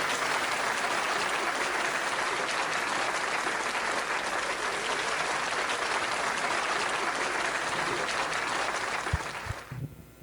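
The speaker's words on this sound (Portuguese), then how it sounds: "Uma salva de palmas, professor, por favor" An audience gives a professor a sustained round of applause after a geopolitics lecture, dense steady clapping throughout that cuts off near the end.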